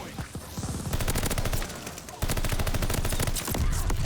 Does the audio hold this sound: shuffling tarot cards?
no